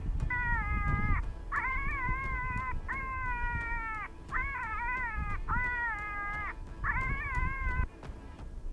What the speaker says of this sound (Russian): Звуки манка, особенно электронного, распространяются до 3 километров